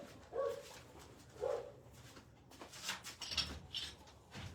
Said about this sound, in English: I'm gonna have to put this dog inside real quick